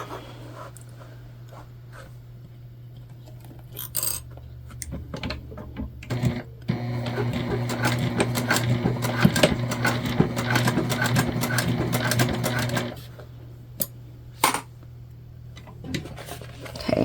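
A sewing machine stitches across the bottom of a bucket bag near the D-ring connector, a fast steady mechanical whir lasting several seconds between quieter handling clicks and a background hum.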